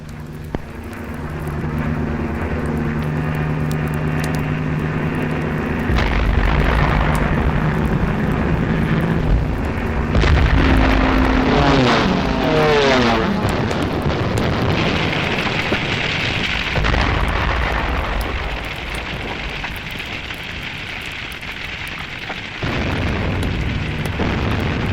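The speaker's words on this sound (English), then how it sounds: "This was Rotterdam, bombed after the Dutch forces had surrendered." The aerial bombing of Rotterdam: aircraft engines drone, heavy explosions boom and rumble loudly, and whistling falling bombs sound over a dense, continuous wartime din.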